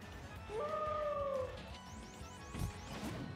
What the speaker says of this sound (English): Love the little howl.